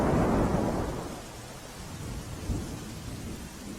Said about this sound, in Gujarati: અંકલેશ્વરમાં 3 કલાકમાં અવિરત વરસાદ વરસી રહ્યો છે